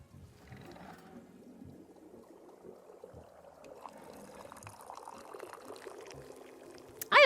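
Tea pouring into a cup in the video game Wanderstop, a soft, steady liquid stream rising gradually in pitch as the cup fills, quiet and alone, ending on a sharp clink.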